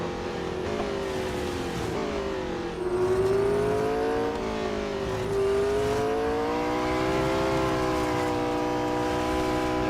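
A race car engine in Real Racing 3 wails continuously at high revs. Its pitch climbs and sags repeatedly as the driver works the throttle through gear changes and corners, loud and alone without speech.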